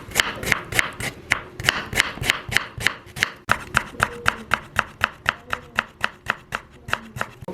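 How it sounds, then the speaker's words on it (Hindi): Ginger is chopped quickly and finely with a knife for a chicken karahi, giving a steady run of about two dozen sharp, even knife taps on a board, close and clear with no talk. "हमारे पास मौजूद जो अदरक है उसको हम जल्दी जल्दी काट लेते हैं।"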